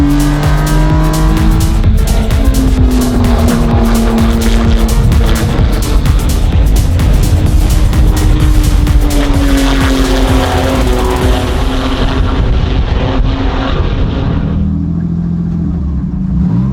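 Porsche race car in a sprint race on track, a loud close engine roar rising and falling through gear changes, with squealing tires and other cars nearby, fading slightly near the end.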